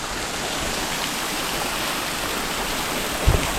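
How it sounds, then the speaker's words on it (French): Waterfall on the Bras de la Plaine hiking trail on Réunion, a steady, close rushing roar of falling water filling the scene without pause. "Et vous avez cette eau, cette chute."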